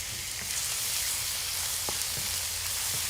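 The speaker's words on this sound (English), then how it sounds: "what we're doing right now is waiting until the beef browns" Beef browning in a hot pan sizzles with a steady crackling hiss, dotted with a few faint clicks and small pops, close up and without talk.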